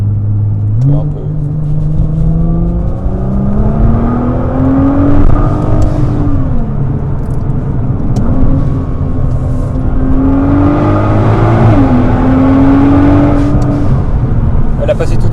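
Nissan R35 GT-R 2010 with a 3.8-litre twin-turbo V6 and dual-clutch gearbox pulling hard. Its engine note rises steadily, drops sharply at each quick gearshift, then climbs again in a loud, continuous in-car drone.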